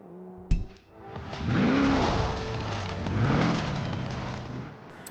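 A Lotus Elise GT1 race car in Forza Horizon 4 gives a sharp bang, then its engine revs up loudly and sweeps through rising and falling pitch as it pulls away, with a brief tire squeal.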